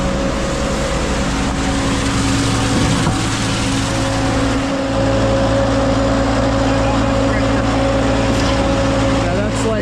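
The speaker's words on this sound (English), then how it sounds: "Let's go see what kind of pressure the pump is pushing." Concrete pump running close by, a loud steady mechanical drone with a constant engine hum that holds evenly for the whole stretch.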